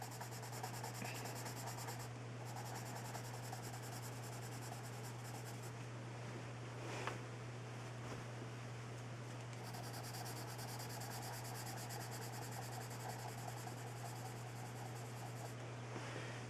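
Pencil scratching steadily across paper while shading a long cast shadow, a close, quiet continuous rub with soft strokes under a constant low electrical hum.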